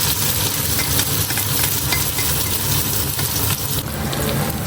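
Spring onions browning in a few spoons of hot oil for a masala egg fry crackle and hiss loudly and without a break, with faint stirring scrapes mixed into the sizzle.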